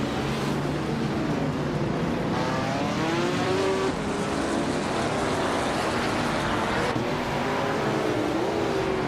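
Race cars in a racing game, among them a 1968 Holden Monaro in Group 3, roar continuously around the track. Layered engine drones rise and fall as cars close in and pass, with no voices over the steady noise.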